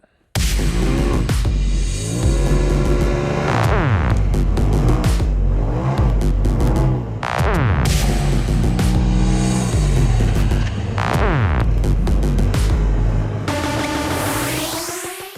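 A Polaris RZR 4 Turbo side-by-side revs hard while driving, its turbo engine rising and falling through repeated accelerations and gear changes, loud and close throughout, with a whooshing surge near the end.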